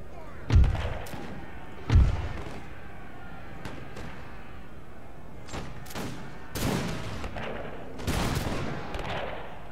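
Musket volleys and artillery blasts in a Napoleonic-era Total War battle, two heavy booming shots early, then scattered crackling volleys and rumbling fire at varying distances.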